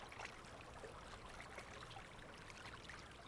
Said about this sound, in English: We can actually hear the sound of waves lapping against the shore coming from this painted wall